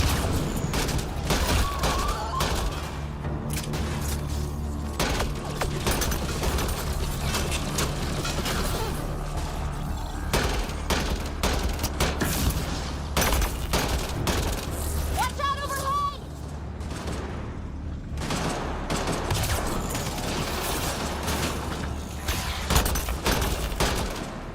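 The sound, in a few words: gunfire and explosions in the video game Mass Effect: Andromeda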